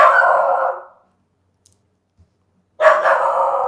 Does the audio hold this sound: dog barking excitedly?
yes